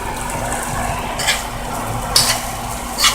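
Onions are mixed into rice in a pan for an Afghan dinner: a steady sizzling hiss runs throughout, with a few brief scraping stirs of the utensil against the pan, close and loud, with no talk.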